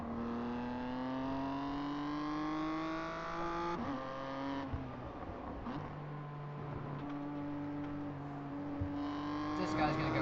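A BMW M2 race car at a race start at Okayama circuit drones loudly from the cockpit, its engine note climbing through gears with brief dips at shifts, while a driver talks over it.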